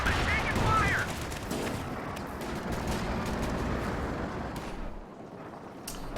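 Rapid battlefield gunfire from a machine gun in the real-time strategy game Company of Heroes 2, a dense crackling volley loudest in the first second, then continuing as a busy mix of shots and rumbling combat noise.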